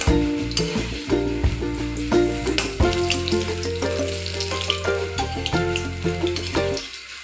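Urad dal vada fritters made with jowar flour frying in hot oil, a continuous crackling sizzle with bubbling pops throughout, close and moderately loud, with no talking.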